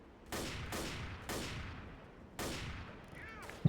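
Gunfire from a zombie shooter video game, four sharp loud shots spaced irregularly, each with a decaying tail, followed by a brief burst at the end.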